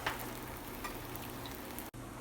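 Cauliflower paneer paratha cooks in oil on a pan over high flame, giving a steady close sizzle and crackle with a short dropout near the end.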